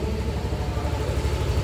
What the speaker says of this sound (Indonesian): Nah, ini motor sudah nyala ya,